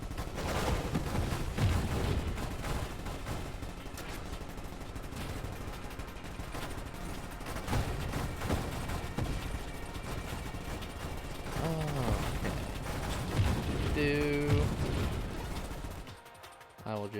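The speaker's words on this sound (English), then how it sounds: "There we go. Shooting in every direction." Dense, continuous gunfire from a ship shooting in every direction in the space shooter Nova Drift, with rapid mechanical bursts and a few descending synth tones near the end, loud throughout under occasional talk.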